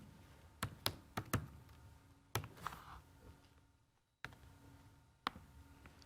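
Several quick key taps on a computer keyboard while a name is typed into a save dialog in Photoshop, a short cluster of clicks, a pause, then a couple more isolated taps, quiet and close.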